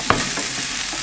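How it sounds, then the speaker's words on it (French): Courgette cubes hit golden frying onions in a pan, giving a quick clatter followed by a steady, loud sizzle with no voices. "j'ajoute, donc là j'ai 2 courgettes coupées en gros cubes"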